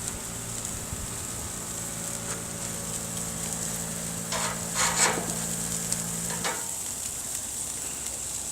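Hamburger patties searing on an outdoor grill, a steady crackling sizzle with a few scraping clicks midway and a low hum that cuts out, heard close with no talk.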